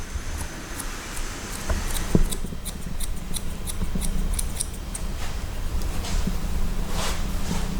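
Scissors snip through hair during a haircut at close range, a rapid, fairly regular run of crisp metallic cuts over a low room hum, with no talking.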